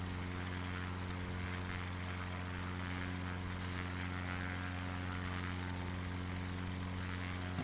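Steady propeller plane engine drone in a flight simulator game, a constant harmonic hum with a busy airy wash above it, holding at one level for the whole stretch with no talk.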